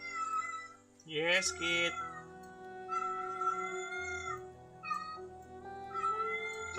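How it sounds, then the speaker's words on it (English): A pet cat lets out loud, drawn-out meows and yowls close up, wavering in pitch across several calls, and a person speaks briefly. "Stop making my cat lose his shit."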